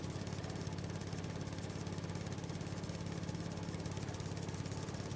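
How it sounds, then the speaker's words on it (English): A mower cuts a field in Farming Simulator 19 on the alpine Erlengrat map, making a steady, unbroken engine drone throughout. "Almost done with the mowing."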